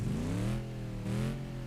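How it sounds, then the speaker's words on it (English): A Roadmaster car engine in the BeamNG driving game revs twice in quick succession, the pitch rising and falling with each blip, heard fairly quietly and alone. "a rev in the Roadmaster"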